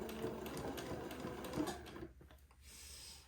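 A sewing machine runs quietly and steadily, stitching a neckband onto a baby daygown around a curved neckline, then pauses briefly before a softer hum resumes.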